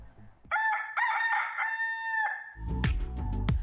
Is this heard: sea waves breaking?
no